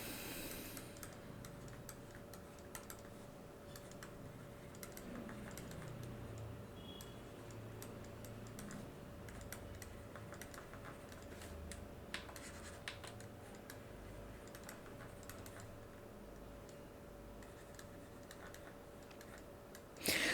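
Steady, quiet tapping of keys on a computer keyboard as code is typed, with irregular clicks continuing throughout at a soft, close level.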